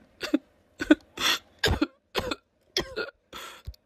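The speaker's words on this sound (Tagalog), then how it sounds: "Tuwing gabi, mas tumitindi ang pag-ubo niya" A woman coughs again and again through the night, a run of about eight harsh, close bursts with short gaps between them and no talk.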